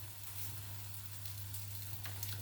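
Food sizzles and fries steadily in a pan, a soft continuous crackle with a low steady hum beneath it, no voices.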